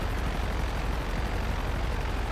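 Airplane engine in GTA Online, a dense, steady roar of noise with a low droning rumble, continuous and loud with no variation and no talking.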